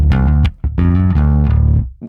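A distorted bass guitar from a Rage Against the Machine song plays loud, thick sustained notes in a few grouped phrases with brief gaps between them.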